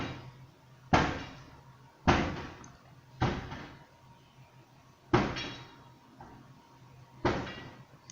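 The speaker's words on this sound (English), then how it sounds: "They are hitting the door." Heavy blows pound a bulletproof house door as men force their way in, five loud impacts at roughly one-second intervals, each ringing out with a short decay over a quiet background.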